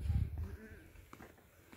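Goats on a goat farm give a brief bleat close by at the start, followed by softer, quieter bleating sounds amid low farmyard background noise, with a voice faintly present.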